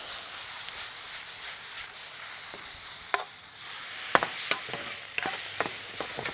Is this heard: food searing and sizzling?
yes